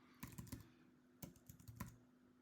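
Quick bursts of typing on a computer keyboard entering a short search: a cluster of clicks, a pause, then a few more keystrokes ending in a firmer press, close and quiet.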